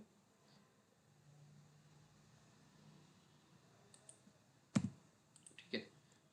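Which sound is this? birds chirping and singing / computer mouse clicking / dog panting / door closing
computer mouse clicking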